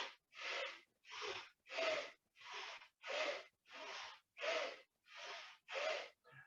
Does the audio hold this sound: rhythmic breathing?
yes